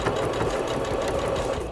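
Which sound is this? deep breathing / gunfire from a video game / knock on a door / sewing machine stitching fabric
sewing machine stitching fabric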